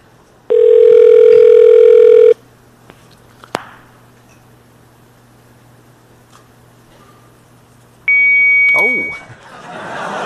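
Phone dialing heard as a steady stacked dial tone for about two seconds, then a quiet line with faint clicks, followed by a shorter ringback tone near the end, with talking around it.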